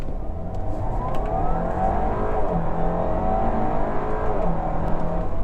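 A 2017 Audi A4 pulls hard under acceleration, its engine note rising in pitch as it gains speed, a steady, loud drone heard from inside the car without talk.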